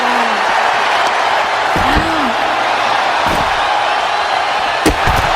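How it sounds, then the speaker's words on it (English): A wrestler is slammed down in the WWE 2K25 video game: a few heavy impact thuds land over a steady, loud arena crowd roar, with a sharp hit near the end. "She is slamming her down."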